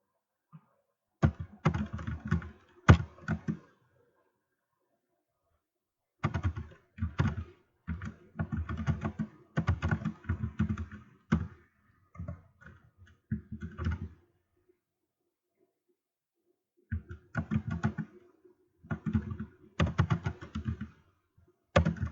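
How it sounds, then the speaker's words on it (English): Bursts of typing on a computer keyboard, with rapid clicking keystrokes in several separate runs broken by pauses, close and fairly clear with no talking. "I got to type all this in"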